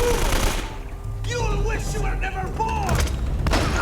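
Gunfire in the video game Uncharted: Drake's Fortune: dense, repeated shots and impacts fill the clip steadily alongside game noise, with whoops and voices over the action.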